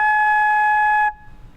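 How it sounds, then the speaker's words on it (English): A flute sounds a single sustained high-register A flat, a clear steady tone held for about a second before stopping abruptly. "this is a higher registered A flat, so it sounds like this"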